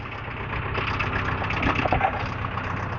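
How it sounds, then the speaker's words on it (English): A big tractor's engine idles nearby in an outdoor town setting, a steady low rumble with a slight knocking throb that holds evenly throughout. "Big tractor to move it as well."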